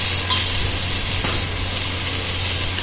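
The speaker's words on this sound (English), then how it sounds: "This is called browning, sealing off the meat, which is done with all stew dishes" Beef for a carbonade browns in a hot pan with a loud, steady sizzle and occasional stirring scrapes, close up and with no talking.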